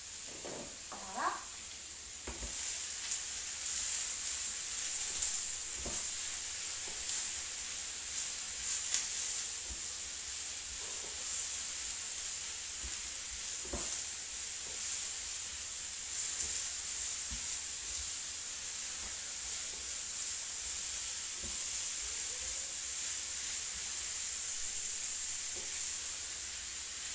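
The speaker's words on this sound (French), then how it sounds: "Comme c'est sur feu fort, je mélange bien régulièrement pour pas que ça craque." Food seasoned with herbes de Provence sizzles loudly and steadily in a pan over high heat. Regular scraping and clicking strokes from stirring break through the constant hiss throughout.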